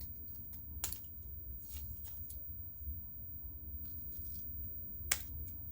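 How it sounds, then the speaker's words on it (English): Scissors snipping the corners off a paper sketch, soft and close, with a few distinct crisp cuts and light paper rustling over a low background hum. "I'm going to cut the bottom corners off"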